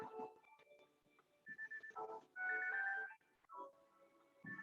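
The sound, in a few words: telephone ringing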